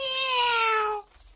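A single drawn-out cat meow, loud and close, sliding gently downward in pitch for about a second before cutting off into quiet.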